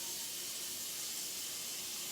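Water poured into a cooking pot for steaming vegetables during home meal prep, a steady close hiss of running water that holds evenly for about two seconds with no other sounds.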